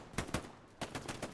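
Rapid gunfire in the video game Hell Let Loose during a wheat field battle on the Omaha map, with several sharp, loud shots in two quick bursts.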